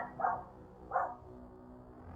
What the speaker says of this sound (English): I don't know what my dog is barking at.